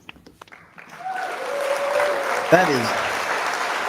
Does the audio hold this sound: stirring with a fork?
no